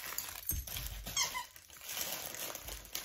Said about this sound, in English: this outer part has a squeaker and a crazy crinkle